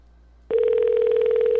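Telephone ringing with an odd, steady electronic tone that starts abruptly after a short quiet moment and holds loud and continuous to the end.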